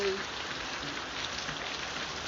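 Heavy rain drums steadily on a surface as a continuous, even hiss with no talk, the downpour falling outside during a church sermon.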